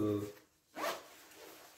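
A large zipper on a Canada Goose Woolford coat is pulled in one quick, close zip, following a burst of speech; the fabric then rustles faintly.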